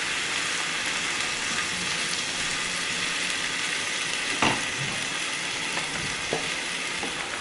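Chickpeas frying in a pan for a quick plant-based meal, a steady dense sizzle throughout with a couple of brief clinks or stirs, close and loud with no talking.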